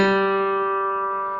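A single open G string rings out on guitar, a clear sustained note with steady overtones that slowly decays over about a second and a half, with no talking.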